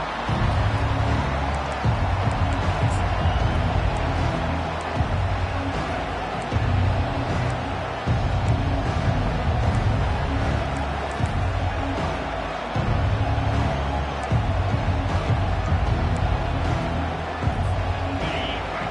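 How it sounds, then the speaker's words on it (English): A football stadium crowd during a college game roars in a steady, dense wash of noise, loud and continuous, with swells of cheering rising throughout. "This crowd bringing the energy and noise early."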